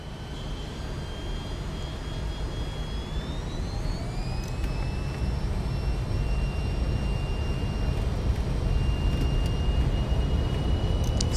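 In Microsoft Flight Simulator 2024, an airliner's engines roar steadily during the takeoff roll, a loud, continuous broadband rumble with a whining tone that rises in pitch as power builds, with no talking.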